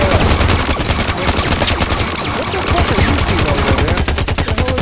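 A dense, loud barrage of gunfire in rapid overlapping bursts, continuous and chaotic throughout, with voices faintly mixed in.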